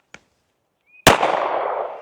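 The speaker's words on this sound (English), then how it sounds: "So let's actually shoot a 9mm and compare it here." A single 9mm handgun shot fired while testing against buckshot holes: a sharp, loud crack followed by a long rolling echo, preceded by a faint small click or tap.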